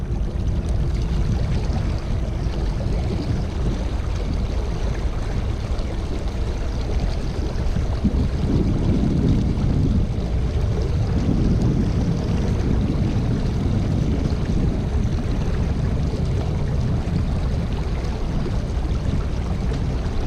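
Float tube (Lunker pike and bass model) gliding fast across water, giving a steady loud rush of water and wind noise with no break, and no voices.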